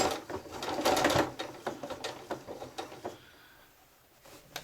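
A sewing machine runs a short back stitch across a quilted, zippered and lined tote, a brisk burst of rapid mechanical stitching that slows into a few separate clicks before falling quiet.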